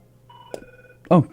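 Telephone tones as a caller connects to a live comedy show, short electronic beeps followed by a quick burst of a voice at the end.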